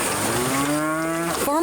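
A cow on a Tennessee farm gives a single loud, close, drawn-out moo with a falling then rising pitch, clear and alone.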